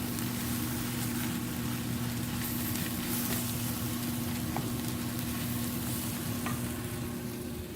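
Creamed spinach is stirred in a frying pan, giving a steady close sizzle and bubbling with soft scraping strokes throughout, over a low constant hum.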